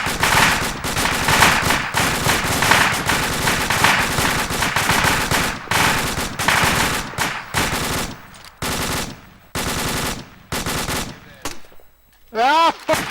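Sustained automatic gunfire in a video game firefight: dense, rattling bursts that run nearly continuously, then break into sparser, sharper volleys with short gaps, with some voices mixed in.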